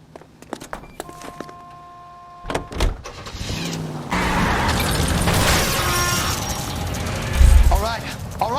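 Car driving in L.A. Noire, with door and power-window whirs, then a steady engine drone under shouted voices, a loud thump near the end.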